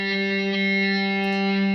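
A distorted electric guitar sustains a single G note with lots of gain, ringing steadily and loud with a dense, buzzing tone for under two seconds, no talking.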